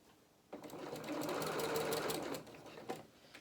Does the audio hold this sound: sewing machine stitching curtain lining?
yes